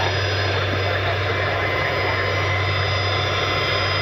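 A FlexJet Gulfstream business jet at Cleveland Hopkins International airport, its engines a loud, steady roaring whine held without a break for the whole clip.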